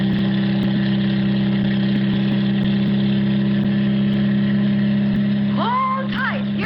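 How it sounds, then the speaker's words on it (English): A car engine drones steadily and loudly with a constant hum as the car nears a line of road construction barricades, a rising whine breaking in near the end. "The car approaches a line of road construction barricades."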